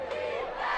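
A high school football crowd roars steadily at a game between Washington and Enumclaw, a continuous wash of massed voices rallying the defense with no break.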